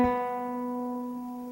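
One plucked classical guitar B string, tuned correctly, sounds with a crisp attack and rings steadily as it fades, close-miked with nothing else present.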